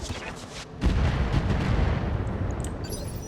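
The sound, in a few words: artillery strike in the video game BattleTech RogueTech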